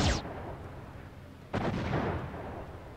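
Missiles launched at a UFO in the Xenonauts strategy game: two sharp booming blasts, one at the start and another midway, each trailing off into a rumbling decay.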